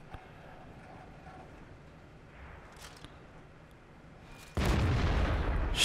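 A tank cannon fires in the World of Tanks video game, a loud blast at about 4.5 seconds followed by a sustained roar, after a stretch of quieter battle ambience.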